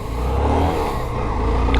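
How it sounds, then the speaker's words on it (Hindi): A Hero Super Splendor 125cc BS6 motorcycle sits on its side stand in neutral, its single-cylinder engine idling with a steady, close, low chugging hum and no talk over it. "तो पहले स्टार्ट कर लेते हैं न्यूट्रल पे बाइक"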